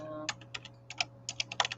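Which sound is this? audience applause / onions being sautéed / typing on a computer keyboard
typing on a computer keyboard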